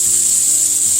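Scallops sear in a hot pan with a loud, continuous hiss, close and unbroken with no voices.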